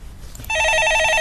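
A telephone rings in a radio studio, a sudden loud electronic trill that starts abruptly after a brief quiet moment and then continues steadily and close.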